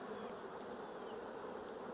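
Honey bees buzzing inside an open hive during a queen graft check, a dense, continuous close hum with no pauses and no talk.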